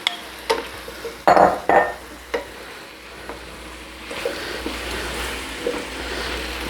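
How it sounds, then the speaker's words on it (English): Sauteed potatoes for a hamburger and potato casserole tipped and stirred back into a metal pot, with a couple of sharp utensil clanks near the start followed by a soft continuous sizzle and scraping. "So we got our sauteed potatoes in here. Let's get them back in the pot."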